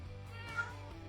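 A cat in a video game gives a single short meow over a low hum of background game audio, fairly soft and brief, with no talking.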